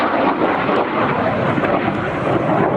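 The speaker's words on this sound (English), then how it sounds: "the second Venom running through" A de Havilland Venom jet roars past at close range during an airshow, a loud, broad, sustained rushing jet noise with wind buffeting, no voices heard.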